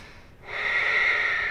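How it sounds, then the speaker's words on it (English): During a yoga session comes one deep breath close to the microphone, a short quiet pause and then a long, airy, steady exhale. "Deep breaths."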